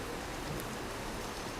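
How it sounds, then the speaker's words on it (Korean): Steady rain falls outside a Buddhist temple service, a soft, even hiss with no breaks and no voices. "오늘 이렇게 비가 내리는데"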